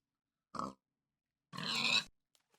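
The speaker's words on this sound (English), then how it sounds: "now if I press the button, we'll get a pig just here" A pig grunts in the Minecraft video game, one short grunt followed by a longer, louder drawn-out grunt after a pause, heard alone with no talking.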